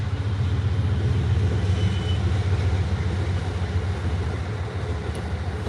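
A train rumbles past close by, a steady loud low roar with wheel and rail noise holding throughout, no voices over it.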